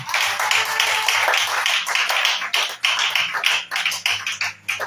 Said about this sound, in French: Est-ce que tu peux acclamer le Seigneur Jésus?